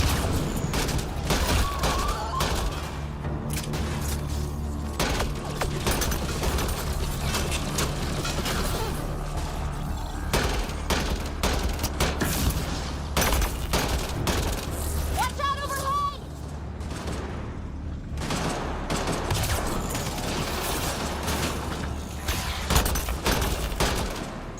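Sustained gunfire and booming explosions in a Mass Effect: Andromeda battle, loud volleys of shots and blasts continuing throughout, with occasional voices in the mix.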